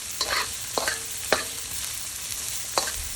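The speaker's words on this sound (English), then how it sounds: "So we're just going to stir fry this" Vegetables stir-fry in a hot wok, with a steady sizzle broken by several sharp scraping clanks of the spatula against the pan, close and fairly loud.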